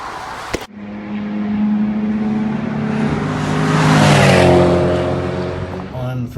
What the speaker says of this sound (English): I'm going to leave you with a flyby of me going past at full chat